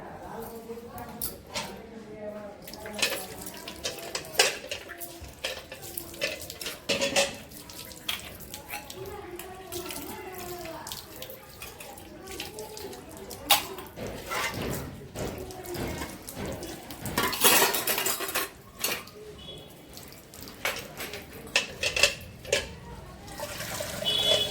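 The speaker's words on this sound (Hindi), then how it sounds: "वही मोटर में अच्छे से जितने भी बर्तन हैं सबको धो लेंगे" Puja utensils being washed under running water from a motor-driven tap, with a steady splashing flow and clinks of vessels throughout, while someone speaks over it.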